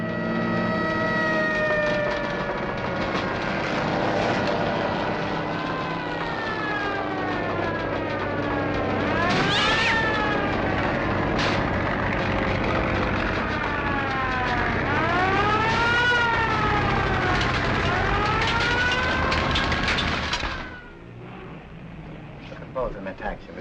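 A wailing fire siren from a firehouse just down the street, its pitch rising and falling in long sweeps, loud and sustained before it cuts off near the end.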